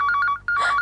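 A telephone rings with a bright electronic ringtone, short repeated chirping bursts close by, briefly pausing before sounding again.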